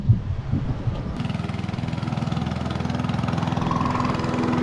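A lawn mower freshly fitted with a new blade starts up and runs; after a short quiet moment the engine catches and settles into a loud, close, rhythmic putter that holds steady to the end.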